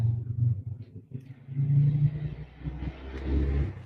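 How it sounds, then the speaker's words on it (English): Motorcycle outside revving and rumbling, its low engine note rising and falling in uneven surges, moderately near and prominent, with no talk over it. "We've got a motorcycle making racket out there."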